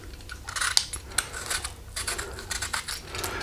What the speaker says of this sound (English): So I have a nice peeler. I just peel down, you can peel around.